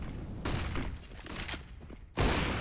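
Gunfire in a professional Counter-Strike match, a few sharp shots cutting through the game's background noise, with one loud burst near the end, moderately close.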